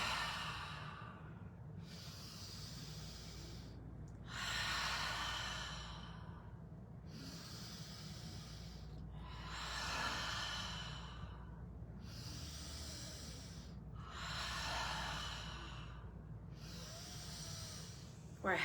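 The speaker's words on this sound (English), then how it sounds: "it's that ha sound, like we're fogging the mirror as the elbows come together" A person exhales slowly and audibly with an open-mouthed ha, as if fogging a mirror, during a chair yoga session; six or seven long breathy exhales repeat steadily and close up, with no voice over them.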